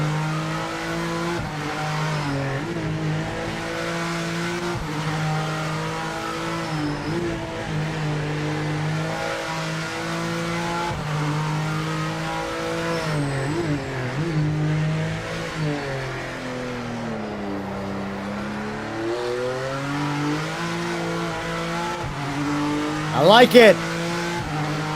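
A GT3 race car in Project Motor Racing slides sideways under throttle, engine droning and revving through shifting pitch with some tire noise, while someone talks over it throughout and a brief louder burst comes near the end.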